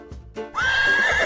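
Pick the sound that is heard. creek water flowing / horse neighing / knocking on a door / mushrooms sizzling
horse neighing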